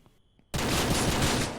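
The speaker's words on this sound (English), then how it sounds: "After mag dumping my revolver into the bear's cranium" In a video game, a revolver fires repeatedly at a bear: after a short quiet stretch, a loud, dense burst of gunfire erupts and keeps going, close and with no talk.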